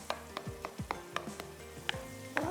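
Makhandi halwa being stirred together with eggs in a frying pan, a spoon scraping and knocking the pan in a regular rhythm of about eight strokes over a gentle sizzle, close and clear, no voices.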